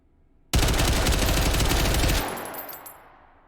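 Rapid automatic fire from a 13-inch-barrel MCX Spear rifle in a video game, a loud, dense burst lasting under two seconds after a silent start, then trailing off with a fading echo.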